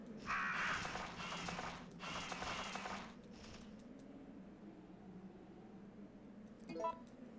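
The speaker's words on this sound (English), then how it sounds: "the crows can kill you" Crows caw in the Resident Evil 3: Nemesis survival horror game, a harsh cawing burst near the start and another around two seconds in, followed by quieter game ambience and a faint squawk near the end.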